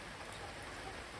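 Continuous rainfall at a rural old house in Japan, a uniform soft wash of drops spattering on the ground and roofs, constant in level from start to end.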